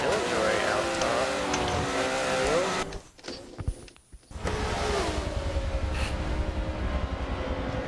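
BMW GT race car rolling down pit lane in an endurance GT racing game, its engine droning and revving close by, dropping away briefly in the middle before returning, with commentary voices over it.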